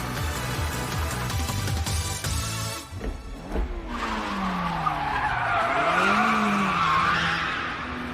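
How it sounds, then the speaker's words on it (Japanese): A Porsche Cayman drifting in the anime MF Ghost: engine roar and gear changes give way to long, loud tire squeals with sweeping pitch as the car slides, plus a hissing skid underneath. "Nice drift though."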